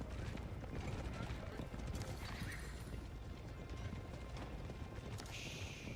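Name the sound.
horse archers' hooves galloping in Age of Empires video game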